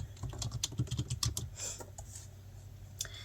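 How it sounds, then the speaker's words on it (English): Keys clatter in a quick burst of typing on a computer keyboard while a search term is entered into a software interface, close and moderately loud, followed by a couple of isolated keystrokes and a quiet pause. "If we type in, let's say, any keyword"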